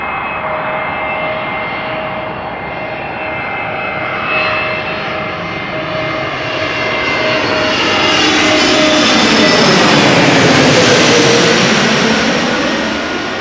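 An Airbus A330-200 arrives at Amsterdam Schiphol Airport, its engine roar building steadily from a constant whine to a loud, close rushing peak as it passes overhead, then easing slightly.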